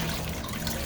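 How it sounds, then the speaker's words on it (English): Wet dyed top being wrung out by hand, a steady close trickle and drip of dye liquid running off the fabric into a tub, continuous and fairly quiet. "May need to squeeze liquid out of this top"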